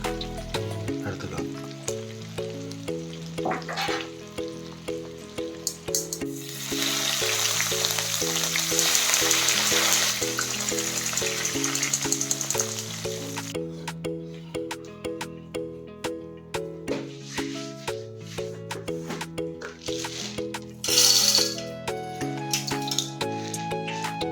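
Diwali mixture snack frying in hot oil at home, a steady sizzling hiss that swells in the middle and returns near the end, set under prominent tonal background music, with no talking.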